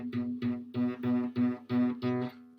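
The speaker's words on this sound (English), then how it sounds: "If you've not got it pressed down enough, it will sound like this." A guitar string buzzes because it is not pressed down fully on the fret, plucked about seven times in a steady rhythm, each note short and twangy, close and clear, with no voices.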